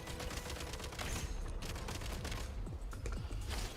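Rapid bursts of gunfire from a shooter sequence in Genshin Impact, dense overlapping shots and fusillades in a loud, continuous barrage with no talking.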